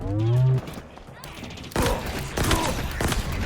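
Bursts of gunfire ring out in the video game Halo Infinite: several sharp shots, then a dense rattling fusillade that continues to the end. A voice speaks briefly at the start, before the shooting.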